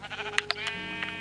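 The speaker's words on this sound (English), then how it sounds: "what's with all the sheep around here?" A Minecraft sheep bleats once, a short wavering nasal cry, close and clear over a faint background.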